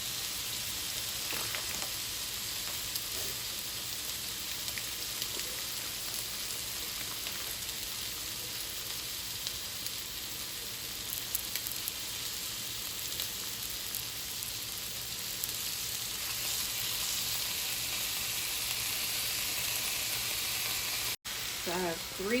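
Bacon and sausage fry in a pan, giving a constant close hiss of sizzling fat with small pops and a few utensil clicks, steady throughout until a brief break near the end.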